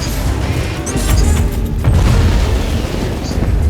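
An explosion rumbles through a Warhammer 40,000: Inquisitor - Martyr battle as a loud, sustained boom with a dense low roar and scattered crackling debris, lasting several seconds without letup.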